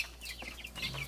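Close, brief clucking from chickens in a school coop, a few quick overlapping calls in a second with a low hum behind.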